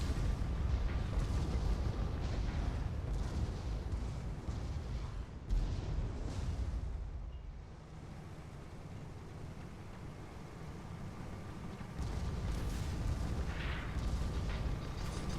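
Warships in a naval video game battle trading mortar fire, with deep rumbling booms and bursts rolling continuously, quieting briefly in the middle before the barrage resumes.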